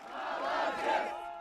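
Crowd of protesters shouting together in a loud sustained roar of massed voices, rising and falling slightly over a short stretch, heard outdoors with no single speaker standing out.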